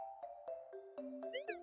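A cat gives a short upward meow near the end over a bed of steady game chimes and plucked tones, faint and close, with no talk.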